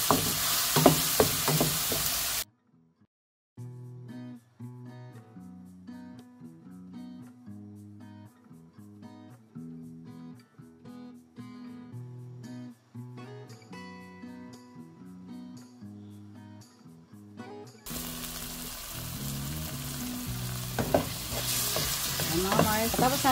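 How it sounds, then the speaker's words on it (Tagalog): Garlic, onion and tomato sauté together in a pan, a broad sizzle with stirring at the start and again at the end, while music plays through the long middle stretch. "nagigisa na po tayo ng bawang, sibuyas at kamatis"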